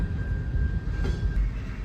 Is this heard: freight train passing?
yes